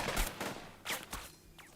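Gunfire in the WWII tactical game Burden of Command: a few quiet, scattered shots and bursts spread across a short span, distant and thin, with no talk.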